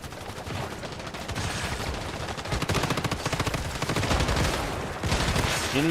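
Dense automatic gunfire from a shooter game, The First Descendant, with rapid bursts rattling nearly nonstop over a busy, loud background of game effects.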